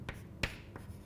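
Hand-writing an equation during a transistor lesson: a few short scratchy pen or chalk strokes, isolated taps separated by pauses, close and fairly faint.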